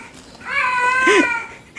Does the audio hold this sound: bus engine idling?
no